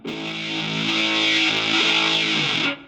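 A sustained electric guitar chord with heavy tube-style distortion from a Zoom G7.1ut multi-effects unit rings out loud and buzzy, then cuts off abruptly.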